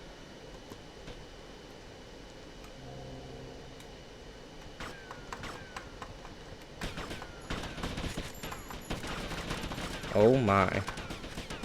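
Enemy gunfire in GTA: Vice City crackles in scattered bursts, faint at first and growing denser and louder toward the end, mixed with game mechanisms and a brief spoken exclamation.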